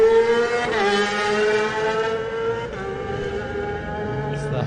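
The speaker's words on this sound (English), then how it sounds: "As the Honda tears under the Monster Energy bridge." Honda supersport racing motorcycle at the Isle of Man TT 2018 Supersport race, tearing past at high speed under a bridge, its loud engine note holding a high whine, dropping in pitch as it passes, then fading.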